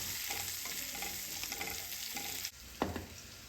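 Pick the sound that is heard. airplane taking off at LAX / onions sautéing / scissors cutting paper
onions sautéing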